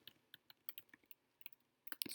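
Faint, quick clicking of computer keyboard keys, irregular taps in short bursts ending with a small flurry, quiet and close with no talking.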